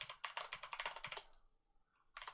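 Keys are pressed rapidly on a computer keyboard with a left-side numpad for macros, a close flurry of clacks, then a short pause and a few more taps.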